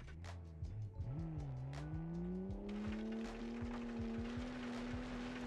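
A 1973 land yacht car engine cranks and catches, then settles into a steady idle whose pitch rises gradually, heard up close with no talking.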